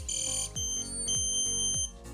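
The anti-theft bike alarm of a Garmin Edge 530 bicycle GPS shrills loudly and close by in steady high-pitched tones. Low thumping pulses come roughly every half second, and no voices are heard.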